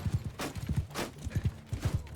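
Cavalry horses on the move in Mount & Blade II Bannerlord, a quick steady clip-clop of hooves in paired beats over a dull battlefield rumble.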